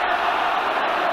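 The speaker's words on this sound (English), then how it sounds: "Crowd now singing England home" A football stadium crowd singing at a World Cup qualifier, England against Albania, a broad steady roar of massed voices at constant loudness with no break.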